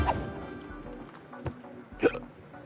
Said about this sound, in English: these damn hiccups. They just will not go away.